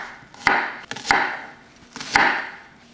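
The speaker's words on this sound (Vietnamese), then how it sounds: "thêm 3 cây sả mình đập dập ra như vậy ha" Three lemongrass stalks smashed on a cutting board for a coconut-braised pork intestine dish, making sharp, heavy thuds in irregular pairs with brief woody rattle after each blow, close by and loud with no voices.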